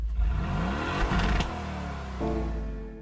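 A turbocharged Mercedes engine revs hard in Gran Turismo 7, climbing in a loud, close whir before dropping back and settling into a steady higher drone near the end, with no talking.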